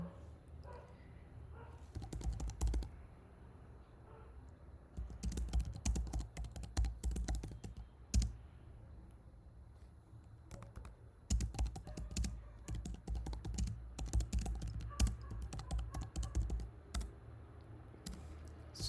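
Code being typed on a computer keyboard: close, busy clatter of keystrokes in bursts with short pauses, running steadily throughout with no talk.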